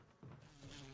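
Bee swarm attacking in Resident Evil, a close, steady buzzing drone that swells midway and holds to the end, with no talk over it.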